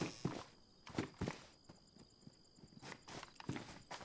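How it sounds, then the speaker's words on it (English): Footsteps of another player in the survival game DayZ on the Livonia map, a string of soft, uneven steps at moderate distance, quiet and without talk. "See, I heard his footsteps."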